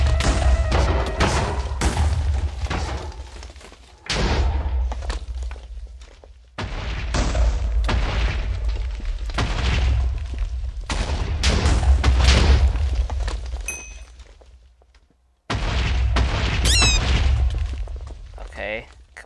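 TNT blasts in a Minecraft-style castle bread-war game, a run of booming, thudding hits that start and stop over and over, sitting under steady game noise and voice chat.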